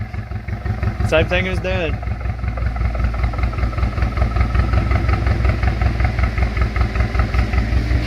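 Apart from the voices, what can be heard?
2017 Camaro 2.0 turbo four-cylinder engine idling with bad misfire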